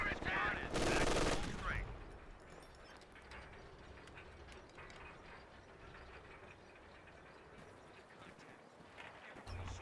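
A loud burst of rapid machine gun fire in Company of Heroes 2, a short dense rattle at the start, then scattered fainter battle noise and distant rumble beneath quiet talk.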